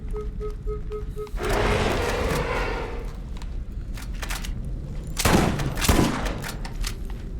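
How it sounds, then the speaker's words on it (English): Gunfire in the shooter Borderlands comes as a long roar of sustained shots, then two loud close blasts a moment apart near the end, heard over a busy combat background. "The shotgun's a little better at this range."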